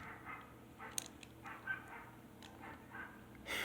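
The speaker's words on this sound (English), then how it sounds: "there's dogs in the background" Dogs bark faintly in the distance, a few short scattered yips and woofs spread across a few seconds over a steady low background hiss.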